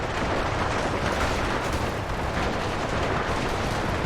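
Dense, continuous gunfire and artillery rumble from a large-scale Germany versus US battle in Ultimate Epic Battle Simulator 2, set around Egyptian pyramids; constant overlapping shots and blasts fill the whole stretch without pause.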